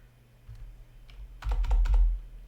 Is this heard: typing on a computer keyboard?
yes